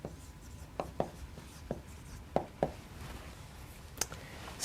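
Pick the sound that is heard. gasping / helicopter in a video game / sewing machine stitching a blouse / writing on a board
writing on a board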